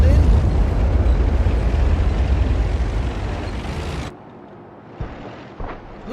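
Heavy, booming blast from a World of Tanks-style tank gun firing a round. It rolls loudly for about four seconds, then cuts to quiet, with a couple of softer thuds after it.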